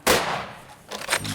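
A single loud gunshot cracks out close by during a hunt, followed by a second burst of sharp reports a moment later.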